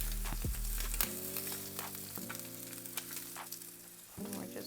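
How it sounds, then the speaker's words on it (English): Bread toasts in butter beside ham in a skillet, giving a soft, steady sizzle with crackling pops, while a low humming tone runs underneath, close and without talk. "add a little bit of butter so that our bread can start getting toasted"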